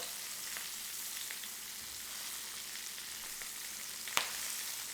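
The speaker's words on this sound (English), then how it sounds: "because these steaks are so thick, I'm going to flip them on their side for a little bit and get this side" Thick steaks sizzling on their edges in a hot pan, a steady close-up crackle and hiss with scattered small pops and one sharper tick near the end.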